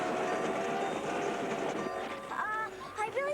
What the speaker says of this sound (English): I think this train's out of control